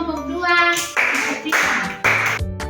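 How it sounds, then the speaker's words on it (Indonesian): A small group claps in short bursts of applause after a classroom group presentation, with a voice briefly heard among the clapping. "Tepuk tangan untuk kelompok"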